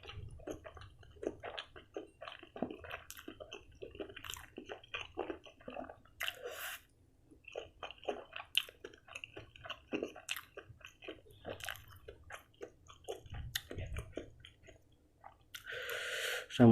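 Spicy bakso meatballs chewed close to the mic in a wet, squishy rhythm with occasional bites and crunches, steady and intimate with no talk.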